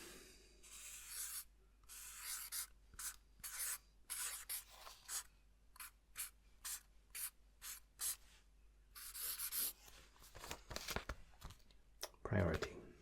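Soft, close scratching of a pen writing on a page in a quiet ASMR counselor roleplay, coming in short irregular strokes and scribbles with pauses, faint and intimate, with a light rustle near the end.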